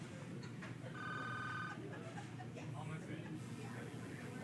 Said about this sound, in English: phone call coming in